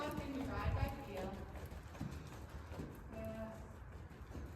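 A ridden horse at a riding clinic walks with steady, soft hoof clip-clops, partly masked by an instructor talking over them.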